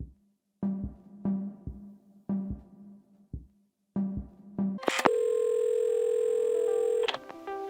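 Telephone handset in the game Assemble With Care: a series of short rhythmic clicks and knocks as the phone is handled, then a loud steady dial tone holding for about two seconds before cutting off.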